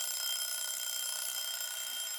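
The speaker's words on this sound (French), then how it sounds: "L'horloge tourne et les réveils sonnent sur mon stream." A steady, high electronic alarm clock rings continuously inside the video game Kinito, a dense unbroken buzz with no pauses and no voices.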